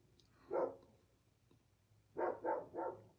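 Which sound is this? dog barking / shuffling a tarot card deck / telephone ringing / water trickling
dog barking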